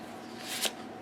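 A brief, close riffle shuffle of a tarot deck, one soft whirring flutter of cards that ends in a sharper snap.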